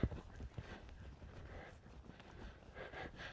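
A racehorse being retrained for eventing steps over ground poles, its hooves clip-clopping in an uneven rhythm of several thuds with faint ambient noise around them.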